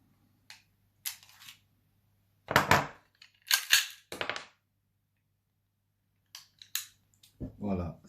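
A Kimar 92 9mm PAK blank pistol is fired several times at irregular intervals, each report a sharp crack followed by a brief mechanical clack, fairly close against a quiet background hum.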